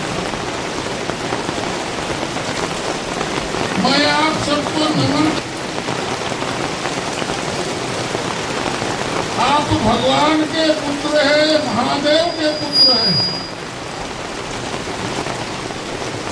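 Heavy rain falls steadily at an outdoor rally in Bagicha, a dense hiss throughout, while someone speaks over a public address system with a slight echo.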